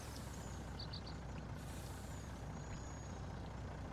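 Mack truck in Farming Simulator 19 giving a loud, sustained air-brake hiss over a steady engine rumble, with no talk.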